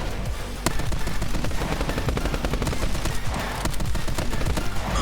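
Rapid bursts of video game gunfire from My Friend Pedro, dense overlapping shots and a sharp crack near the start, loud and continuous throughout with no talking.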